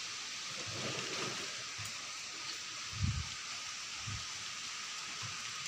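Steady rain falling outdoors in a village, a constant hiss of drops with a few soft low thuds, fairly faint and even throughout.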